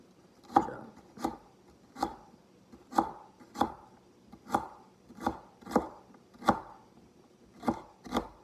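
A knife chops food into thin strips on a board, about a dozen crisp, evenly spaced strokes up close, each one sharp and distinct with no talk.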